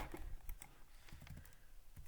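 Fingers typing values into a calculator list, a quiet run of soft, uneven key taps, close and faint, with no voices.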